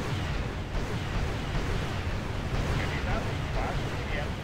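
Missiles fired and exploding in the Wargame: European Escalation video game, a dense continuous rumble of blasts and bursts, loud and sustained with no clear gaps between impacts.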